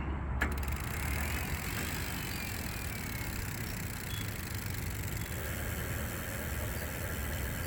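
Vélec R48 hub-motor electric bike accelerating on throttle alone with minimal assistance, a steady whirring drone with broad road and wind noise, continuous and fairly loud throughout with a faint rising whine.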